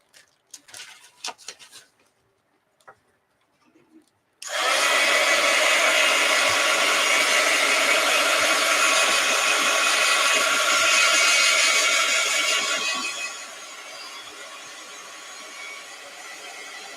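A heat tool blowing on a mixed media art journal page, switching on abruptly after a few light taps and handling noises, then a loud steady roar for about nine seconds before it drops to a softer whir.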